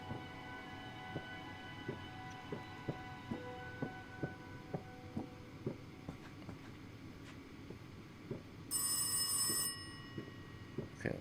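A telephone rings once in the horror video game Rise of Insanity, a short bright burst over a low rumbling ambience with steady rhythmic thuds.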